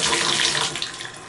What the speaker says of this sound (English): We'll turn on the hot water.